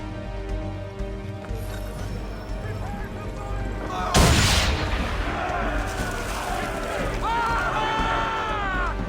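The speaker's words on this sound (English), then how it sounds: "Now give the swivel guns a turn. More precise. Hit those old powder barrels and light up the sky." Swivel guns in Assassin's Creed III fire at old powder barrels, producing one loud, close boom and crackling blast that decays into lingering rumble under game music and ambient sea sound.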